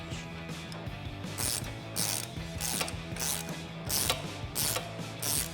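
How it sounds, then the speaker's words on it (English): A ratchet wrench with an 18mm socket tightens a factory bolt on a Jeep Wrangler JK sway bar disconnect link, giving bursts of rapid clicking strokes separated by short pauses, close and clear. "We can go ahead and tighten that down with our 18mm socket and wrench."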